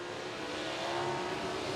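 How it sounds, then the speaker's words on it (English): Sprint cars at an ASCS race at Salina Speedway roar on a restart, one car spinning its tires; a dense, loud, steady engine drone with a high rasping edge holds throughout with no voices. "Aaron Reitzel with a lot of tire spin"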